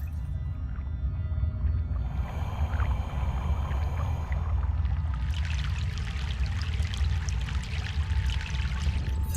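A boat crossing a river in the video game Broken Sword: The Sleeping Dragon, with continuous rushing, pouring water close by that swells and grows brighter partway through, and no one talking.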